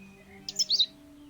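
Cheep Cheep, a small pet bird in The Book of Unwritten Tales, lets out a quick burst of three or four bright, high chirps, clear and close against a quiet low hum.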